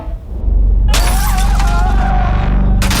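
Car window glass being smashed, a loud sudden shatter after a low rumble, followed by crunching and tinkling shards, with another crash starting at the end.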